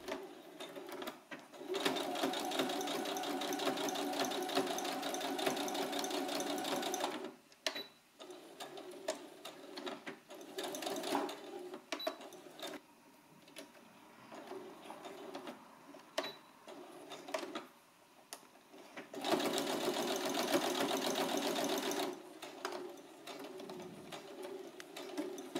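Sewing machine running in long bursts while stitching a 1 cm side seam on a puffer jacket (doudoune), steady whirring broken by short pauses, close and fairly loud, no talking.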